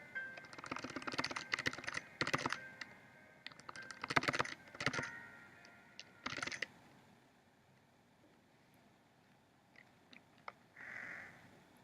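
A computer keyboard is tapped in rapid bursts, keys mashed repeatedly to skip text in the Flash game Phoenotopia; dense clusters of clicks alternate with short pauses, then sparse single taps and a brief faint tone near the end.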